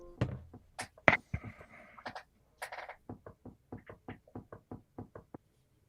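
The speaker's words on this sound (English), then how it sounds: "A knocking sound." Knuckles rap on a wooden door in sharp, close knocks: a few irregular blows at first, then a faster, even run of quieter taps, with no voices.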